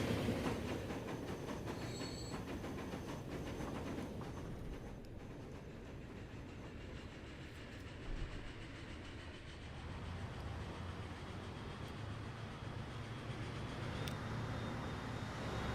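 Trains in the railway simulation game Transport Fever 2 roll along with a continuous low rumble, squealing wheels and faint clickety-clack, steady and fairly quiet throughout with no speech.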